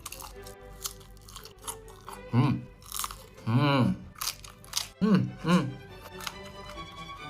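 Sausage with green beans gets chewed up close, with repeated loud crunchy bites in irregular bursts and softer mouth noises in between.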